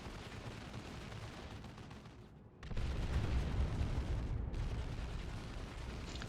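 Grenade explosions in the video game WR2, a dense run of loud, booming blasts with gunfire-like cracks that briefly drops out, then returns even louder and keeps rumbling.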